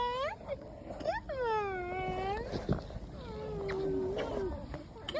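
Pet cat meowing repeatedly, several drawn-out rising and falling meows close by, with a brief thump in the middle and a voice talking at times.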